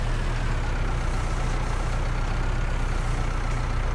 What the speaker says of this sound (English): So while we're driving around Valtra A's on this farm, we have 130 horsepower in both of them.